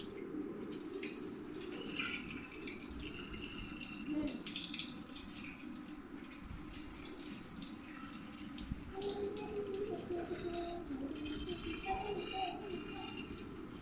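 Running water from a tap while a pet cat is bathed, a steady splashing stream filling the scene with voices talking faintly in the background.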